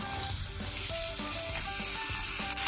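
Potatoes added to softened onions in a hot frying pan, sizzling loudly and steadily, with occasional stirring scrapes and no talk.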